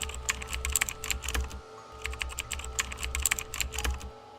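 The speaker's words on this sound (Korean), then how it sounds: "키보드를 만지지 않았는데 화면에 글자가 타이핑되기 시작했다." Computer keyboard typing in quick, uneven bursts of clicking keys, close and moderately quiet, with a short pause midway and no voices.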